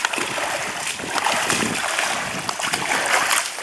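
A young girl swimming in a pool, her strokes throwing up a busy, continuous splashing close by, with some people talking faintly in the background.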